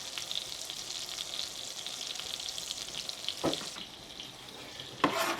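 Half a stick of butter sizzles gently as it melts in a pan on low heat, a soft steady crackle with a couple of brief clanks near the end, no speech.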